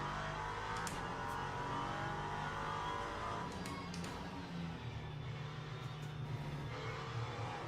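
Race car engine droning steadily at high revs on a cold-tyre qualifying lap in Le Mans Ultimate, with gear changes and shifting pitch, loud and continuous with no talk.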